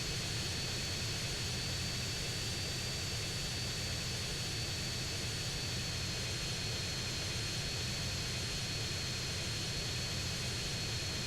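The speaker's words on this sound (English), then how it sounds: "we're going to take our plane and we're going to fly straight north" A plane's engine drones steadily in flight in GTA San Andreas, a constant dense roar with a faint high whine running through it, no voices.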